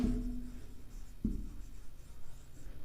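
Chalk or marker writing on a board during a maths lecture: scratchy strokes close by, a longer stroke, a short pause, then renewed strokes, with no voice over it.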